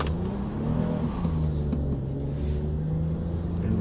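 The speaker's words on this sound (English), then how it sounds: "What I'm going to do though is I'm going to turn off traction control so we can burn some rubber" A Toyota car with traction control off accelerates hard, its engine rumbling loud and close, pitch climbing steadily through the revs under a constant roar with no talking.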